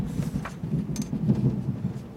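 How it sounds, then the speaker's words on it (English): Rolling thunder from a distant storm, a low continuous rumble that swells and churns for a couple of seconds with faint rattling on top, no voices. "Oh, that was a rolling thunder."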